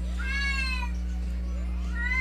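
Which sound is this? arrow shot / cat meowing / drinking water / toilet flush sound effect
cat meowing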